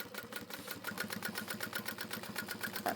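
A sewing machine stitches a seam on a modified Aries crossbody bag, running close and steady with a fast, even rhythmic chatter throughout and no talking.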